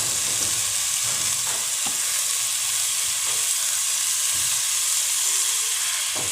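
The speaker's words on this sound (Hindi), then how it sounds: "इसमें आप मछली को ऐड करते हैं।" Fish frying in a pan of well-browned masala, a steady loud sizzle and hiss throughout with faint stirring scrapes, no voices.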